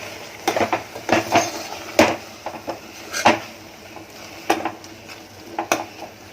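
Tomatoes and spices frying in oil in a pan for a Konkani drumstick and prawn curry, a spoon or spatula scraping and stirring in repeated sharp clacks over a steady low sizzle.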